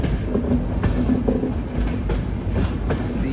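A diesel locomotive hauls a train past on the rails with a low rumble and faint periodic clicks from the wheels over rail joints, steady and fairly close, with no talking.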